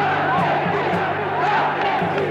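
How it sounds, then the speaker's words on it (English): Crowds in Buenos Aires roar and shout in celebration at news of the Falklands invasion, a dense, sustained wall of many voices cheering throughout. "the crowds went wild"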